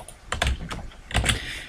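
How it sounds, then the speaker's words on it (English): Bursts of quick typing on a computer keyboard, close and clear, with clustered key clicks separated by short pauses and no talk. "I'm just going to dance on the keyboard."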